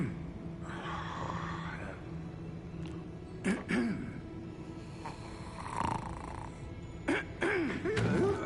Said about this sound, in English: Snoring.